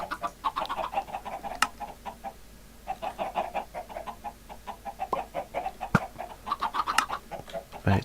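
Clucking from a crowd of Minecraft chickens in an automatic farm continues in close, rapid bursts with a brief lull, and a couple of sharp clicks break in.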